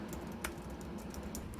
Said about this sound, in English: Here's a nice video of me typing.